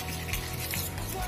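Homemade slime with food colouring gets stirred, a dense wet squelching and churning at close range that stays continuous and fairly loud throughout, with no voice.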